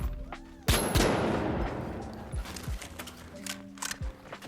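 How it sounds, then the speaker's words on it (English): A Lewis gun fires in The Finals, opening with a sharp loud blast followed by rapid automatic shots and game clatter that trail off into scattered smaller bangs. "They did fix the recoil a little bit for the Lewis gun"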